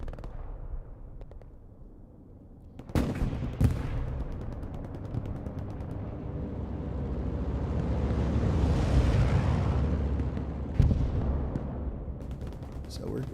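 Gunfire and artillery rumble through a Hell Let Loose battle: a steady low roar, sharp blasts around three and four seconds, a swelling mid-section, and another loud crack near the end.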